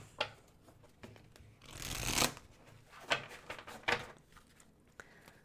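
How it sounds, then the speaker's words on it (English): A tarot deck is shuffled and cards are pulled, giving soft riffling bursts and a few crisp card snaps, quiet and close, with no talking. "I'm going to pull one final card here"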